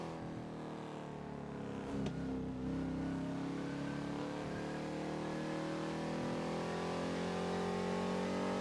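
A car engine in GTA V on the NoPixel server revs and accelerates steadily, its pitch rising in a continuous drone that stays loud and unbroken throughout.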